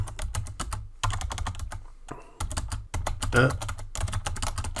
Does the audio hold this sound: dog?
no